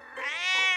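A cartoon cat gives a single drawn-out meow, close and clear, rising slightly in pitch and sustained for under a second.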